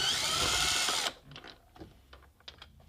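A power driver fitted with a T25 bit whirs loudly for about a second, backing out a door trim screw on a BMW F30, then stops, followed by faint clicks and handling of the loosened screw.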